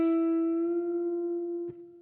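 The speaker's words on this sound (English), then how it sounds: "When you hit the pitch on the bend, hold it for a second." A guitar string bent up to its target pitch and held as one sustained, slightly wavering note that fades gradually, with a brief pick or fret click near the end.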